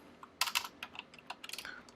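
Fingers type on a computer keyboard while entering code in Xcode, a quick run of light, close clicks in irregular bursts, with a couple of louder strikes near the start.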